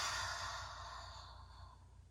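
A soft, airy exhale during a children's yoga breathing exercise, close and gentle, fading steadily over about two seconds.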